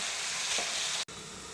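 Beans and carrot thoran with curry leaves sizzles in a pan, a steady close frying hiss broken by a brief dropout near the end.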